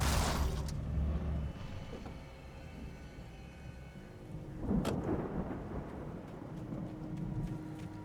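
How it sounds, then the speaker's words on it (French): Thunderstorm rolling in within Alan Wake: a loud thunder rumble opens, followed by steady rain and a second distant crack and rolling boom midway, with rain continuing beneath. "la tempête qu'on attendait est enfin"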